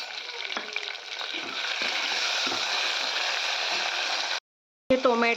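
Chopped onion and cut tomato fry in a pan with a steady, dense sizzle, broken by a few stirring scrapes and a brief pause before the sizzling resumes.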